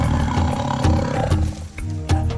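A Bengal tiger gives deep, rumbling roars and growls, loud and close, in a few rough surges that rise and fade, with no voices.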